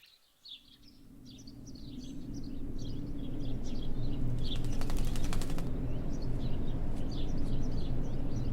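A sparrow's wings flap in a quiet church in the game Martha is Dead, with soft chirping birds in the background and a brief fluttering burst midway over a steady low ambient hum.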